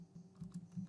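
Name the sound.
typing a name on a computer keyboard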